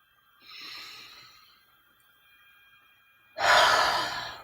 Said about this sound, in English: let's take 3 deep breaths in and out